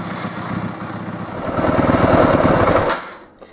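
A 2003 Yamaha WR250F motorcycle engine starts and runs up loud and close, rising to a harder buzzing rev before dropping away abruptly at the end.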